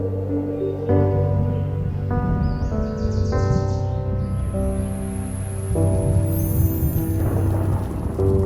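Heavy storm with steady rain pouring down and low rolling thunder, a continuous dense wash of rain with a sustained musical tone layered over it.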